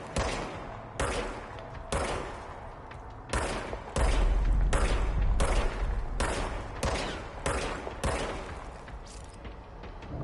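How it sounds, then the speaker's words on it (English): The service weapon firing in Control: a run of loud, sharp shots at irregular intervals, some in quick pairs, with one heavier blast partway through and no talking. "Now I have a gun. Fire service weapon."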